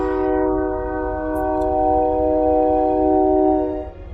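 Long sustained train horn blaring loud and steady for about four seconds as a rich chord, then cutting off near the end.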